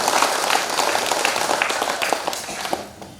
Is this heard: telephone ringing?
no